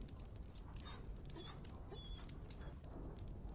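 Dog in Dragon Age: Origins whimpering with faint yips and whines, quiet and close, over a low rumbling background.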